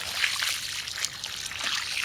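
Water trickles and splashes from a can or hose onto soil in plant pots on an allotment, a soft continuous pour lasting a couple of seconds at close range.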